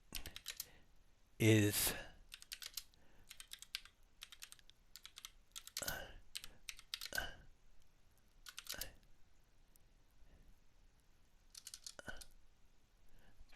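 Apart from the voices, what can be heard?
typing on a computer keyboard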